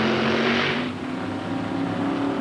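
Two heads-up class drag racing cars at a 2000 NHRA race launch side by side with a loud, broad roar that surges for about a second, then eases into a steadier engine rumble.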